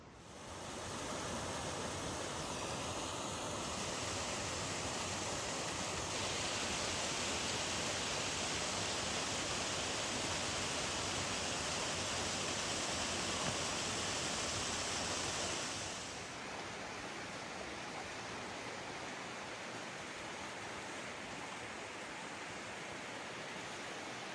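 Mountain stream in Rocky Mountain National Park rushing over rocks, a dense, steady roar of flowing water heard close and unbroken for the full length, with no voices.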